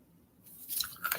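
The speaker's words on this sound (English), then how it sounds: "Sorry, I'm not trying to crunch in y'all's ears." A piece of candy is crunched between the teeth close to the microphone. Quiet silence gives way to a few brittle, crackly bites and chewing that get louder toward the end.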